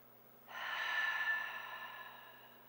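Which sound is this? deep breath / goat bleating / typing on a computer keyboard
deep breath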